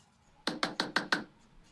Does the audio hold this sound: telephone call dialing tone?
no